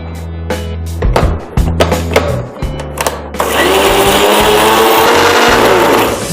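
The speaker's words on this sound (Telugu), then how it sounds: "ఇప్పుడు మనం గ్రైండ్ చేసుకుందాం. మంచి పేస్ట్ అయ్యేంత వరకు మనం ఇది పేస్ట్ చేసుకుందాము." A mixer grinder whirs continuously, grinding fenugreek leaves into a paste for aloo methi paratha. Short bursts come first, then it runs steadily and loudly to the end. No one speaks.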